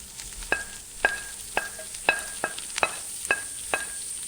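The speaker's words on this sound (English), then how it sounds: "Continue to fry it." Garlic and bacon frying in a pan for a Bolognese sauce: a faint, steady sizzle sits under about eight sharp, evenly spaced taps of a utensil against the pan, close and quiet.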